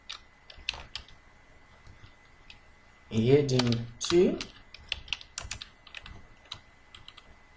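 Keys clatter in quick, uneven bursts on a computer keyboard while table cells in a Word document are filled in, with a voice speaking briefly partway through.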